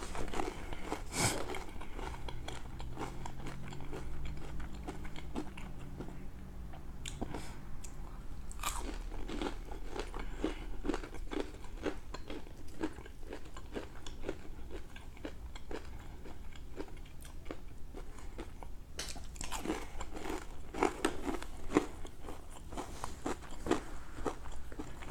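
Crunchy calamari is bitten and chewed close to the mic in ASMR style, with repeated crisp crunches and bites spread over a quiet background and no talking.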